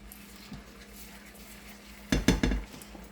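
A spoon scrapes and clinks against a pot of Indian black kidney bean curry being stirred, with three quick metallic knocks close by over a faint background hiss.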